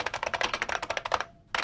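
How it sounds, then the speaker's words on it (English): Rapid, clattering keystrokes from an IBM Model M mechanical keyboard, a steady run of loud, close clicks that stops briefly and then picks up again with one more burst. "a tank of a keyboard whose distinctive racket once reverberated through the offices and computer labs of the land"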